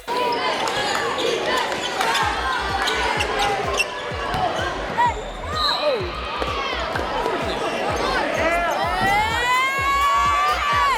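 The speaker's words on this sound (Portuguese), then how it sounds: "um vídeo viral de um garoto americano em um jogo de basquete gritando 6-7 fazendo esse gesto com as mãos" A crowd at a basketball game fills the space with shouting, cheering and whooping children's voices. Repeated thuds of a bouncing ball run steadily underneath, close and lively throughout.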